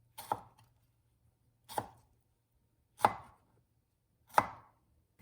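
Four sharp knife chops through garlic on a cutting board, evenly spaced about a second and a half apart, close and crisp in an otherwise quiet room.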